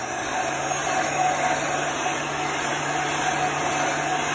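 A handheld dryer runs continuously to dry chalk paste paint on an antique truck craft piece, a steady close whirring blow with a constant hum and no pauses.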